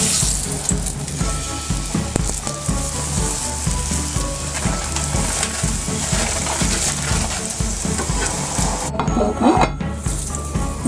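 Aloo paratha fries on a hot tawa with a loud, constant crackling sizzle, mixed with a few light pan clinks and scraping sounds and no talking.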